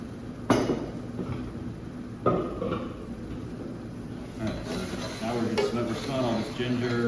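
Vegetables cook with ginger, garlic and lemongrass in a pan, giving a soft sizzle with occasional clanks and stirring scrapes of a utensil against the pan, while a person talks over it.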